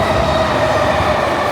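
A Tokyo metro train rumbles loudly and steadily from inside the carriage, a continuous dense roar with a faint whining tone and no talk.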